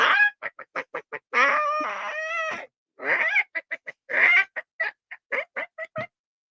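A voice imitates a chicken, clucking in short staccato bursts and drawn-out crowing squawks, close and clear against silence.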